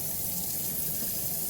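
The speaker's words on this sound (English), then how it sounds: "I'm gonna turn the water to really hot water right now." Hot tap water runs steadily into a sink, a constant close rushing stream with no pauses, at a moderate level with no voices.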